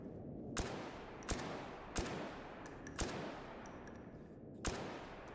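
Single gunshots in a video game as a player fires at an explosive barrel: five or six sharp, loud cracks at uneven intervals, each followed by a short decay over a steady background hum.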